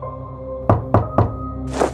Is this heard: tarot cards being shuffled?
no